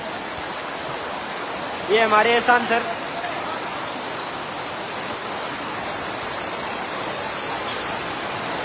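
Heavy rain pours down in Losal, a steady, dense hiss of water that runs the whole time, with a voice speaking briefly over it near the start.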